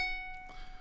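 A single clear ukulele note plucked at the ninth fret rings out alone and fades quietly in under a second.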